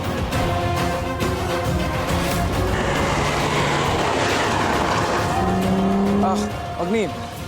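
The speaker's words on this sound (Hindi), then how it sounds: "ये कार बार बार हमारे चक्कर लगा रही है" A car circling close by on a road, its engine drone and tire noise steady and loud under people talking, with tonal squeals or horn-like glides near the end.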